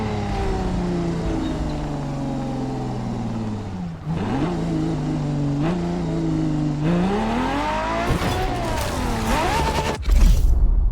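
A 2002 Ferrari Enzo V12 in The Crew Motorfest, revving and shifting through gears as the engine pitch climbs and drops repeatedly, loud and close, ending in a hard high rev.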